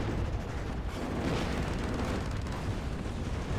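Artillery fire and explosions in the video game WARNO form a dense, continuous rumble of overlapping blasts and booms that sounds heavy and sustained, with no clear gaps between the impacts.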